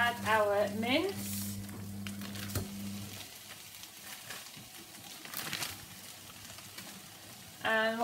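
Onions and peppers fry in a pan with a soft, steady sizzle and occasional stirring scrapes, while a voice briefly speaks at the start and end.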